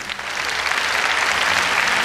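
Steady, dense applause from a large audience fills a ballroom dance championship hall after a Slow Fox standard routine, continuous and fairly loud throughout.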